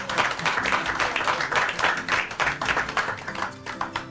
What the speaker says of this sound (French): Est-ce qu'on peut faire un triomphe d'ovation pour elle?